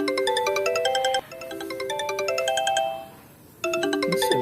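A cellphone rings with a repeating melodic ringtone of bright electronic notes, loud and close, pausing briefly between cycles before starting again, with no talking over it.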